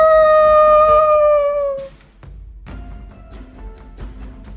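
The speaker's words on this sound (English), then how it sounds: "both heads howl in unison" A two-headed beast lets out a loud, sustained tonal howl that slowly falls and fades after about two seconds, followed by quieter rumbling ambience with soft knocks.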